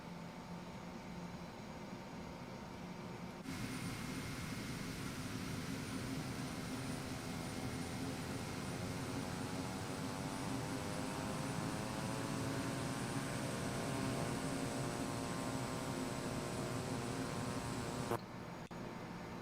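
Twin turboprop King Air B200 taxiing in Microsoft Flight Simulator 2024, a steady engine drone with a rising propeller whine and sweeping harmonics that continues unbroken, then cuts off near the end.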